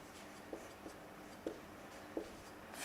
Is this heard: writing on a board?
yes